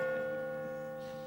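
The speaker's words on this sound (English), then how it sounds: "This entire street shakes with the sound of that bell." The church bell of St. Nicholas's Church in Carrick-on-Suir hangs in a long, ringing tone with layered harmonic overtones, slowly decaying after a strike.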